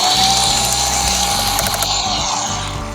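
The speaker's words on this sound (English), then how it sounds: "let's screw it on with some screws" A power tool drives screws to fasten parts together, a loud continuous ratcheting whir with a steady clicking rhythm, close up and alone.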